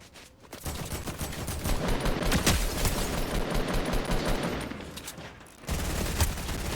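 Fortnite video game gunfire, a dense sustained burst of rapid shots filling most of the moment, loud and close, with a brief lull before another volley.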